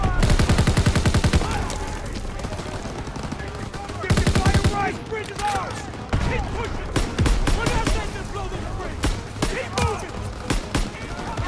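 Sustained rapid gunfire from a World War II carbine and other weapons in the Call of Duty WW2 video game, loud and dense bursts with a brief lull, heavy game battle noise throughout.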